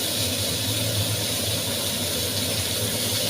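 Chopped tomatoes frying in hot oil with bay leaves give a loud, steady, broadband sizzle that fills the whole stretch without pause.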